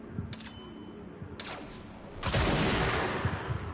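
Gunfire from a two-shot weapon in the video game Control: a few sharp cracks early on, then a louder burst with a sustained noisy tail, heard close with no talking.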